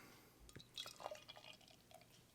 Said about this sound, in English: So let's go ahead and get it poured.